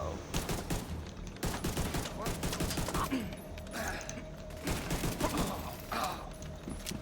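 Pistol fire in The Division 2, a rapid string of sharp, loud shots cracking in irregular bursts over game ambience and mechanical clatter, close and punchy throughout.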